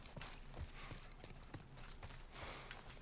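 Horse hooves clip-clop in The Last of Us Part 1 with a steady walking rhythm of distinct soft clops, fairly quiet and alone.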